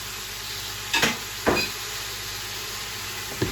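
A spoon stirs a lamb tagine mixture with rose harissa paste and honey in a hot pan, giving a steady sizzle and two or three sharp scraping knocks against the pan.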